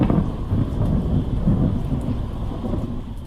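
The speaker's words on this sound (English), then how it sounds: "These are images of a thunderstorm crossing Whitmarsh Island before sunrise." Thunder from a thunderstorm crossing Whitmarsh Island before sunrise, a loud continuous low rumble that rolls and swells in waves under steady rain.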